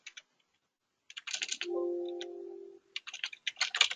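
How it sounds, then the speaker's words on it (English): Bursts of rapid clicking keystrokes on a computer keyboard, split by short pauses, with a steady tonal hum sounding between the bursts. "it was just me typing that in wrong"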